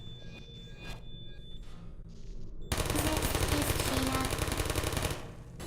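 Automatic gunfire from turrets in the Portal video game, a loud, dense rattling burst that starts abruptly halfway through and runs continuously for nearly three seconds. Quieter game sounds and a brief spoken word come before it.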